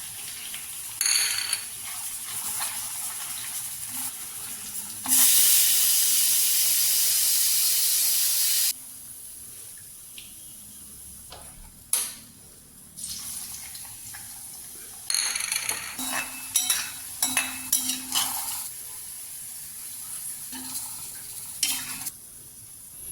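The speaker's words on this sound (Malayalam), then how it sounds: "വെളിച്ചെണ്ണ ചൂടായിട്ടുണ്ട്. ഞാൻ അതിലേക്ക് ആദ്യം ഇഞ്ചി ചേർത്ത് കൊടുക്കുകയാണ്." Ginger frying in hot coconut oil, a steady bright sizzle with hiss and steam bursts, broken by stirring scrapes and small clinks of a utensil against the pan, no voices.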